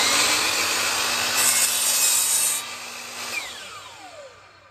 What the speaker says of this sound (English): I lift it up, I turn the saw on